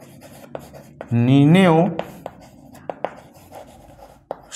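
Chalk or marker scratches on a board while a class 5 maths problem is worked out, a few sharp short strokes under a brief spoken word, then quiet isolated ticks and taps.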